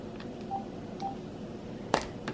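A mobile phone kept close by gives a couple of faint, short electronic beeps over a low background hum, followed by a brief sharper click.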